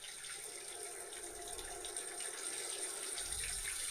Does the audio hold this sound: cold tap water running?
yes